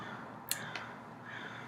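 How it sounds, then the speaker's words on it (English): A crow caws once sharply, then a second softer call follows, both distant against a faint outdoor hush. "can you hear the crows?"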